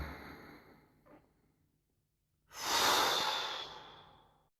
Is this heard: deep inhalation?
yes